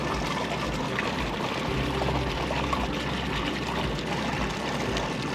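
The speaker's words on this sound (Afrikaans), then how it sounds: "kan jy sien hoe blaas hy die bubbles deur ons produk" Air pump pushing a steady stream of bubbles through a compost tea brewer, a continuous close-up bubbling and pouring wash with no pauses and no voices.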